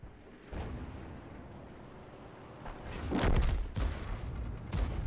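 Muffled booms and rolling blasts from self-propelled artillery in a tank video game, with a louder thudding impact cluster midway and another sharp crack near the end over a constant engine-like rumble.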